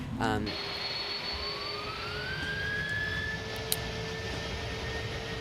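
A simulated airplane engine in Microsoft Flight Simulator 2020 during the takeoff roll, with a steady engine drone and a whine that climbs in pitch as the plane gathers speed, plus a brief thump near the start.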